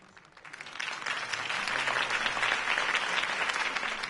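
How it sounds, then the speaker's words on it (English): A crowd at a campaign speech in Telltale's Batman video game breaks into applause, swelling quickly from quiet to a steady, dense clapping that carries on evenly throughout. "If only Mr. Wayne, my campaign's largest backer, could have heard that applause"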